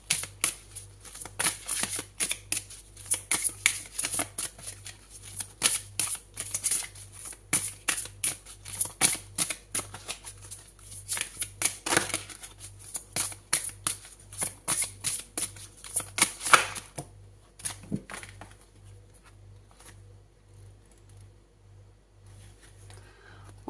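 A tarot deck is shuffled with rapid, dense riffling and flicking of cards, close and crisp, for around sixteen seconds before it settles into a few soft handling sounds and near quiet.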